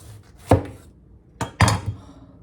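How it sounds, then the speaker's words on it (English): A knife slices through freshly picked garden produce on a board, three crisp cuts landing in an uneven rhythm, close and fairly loud with quiet between them and no talking. "I'm gonna just cut a couple of slices and show you."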